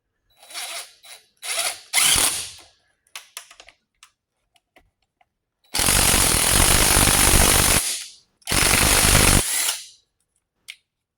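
A Craftsman impact driver drives bolts in bursts: short clicks and brief zips early on, then two long, loud, rattling hammering runs close by, separated by a gap, with no voices.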